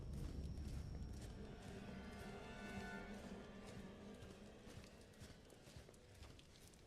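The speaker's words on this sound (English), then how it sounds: "I thought I heard her footsteps." Footsteps of a pursuing woman in the castle dungeon of Resident Evil Village, a steady run of dull, muffled thuds heard faintly beneath a rumbling game ambience.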